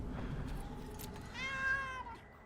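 A pet cat meows once nearby, a drawn-out rising and falling cry heard faintly over quiet room background, with no talk.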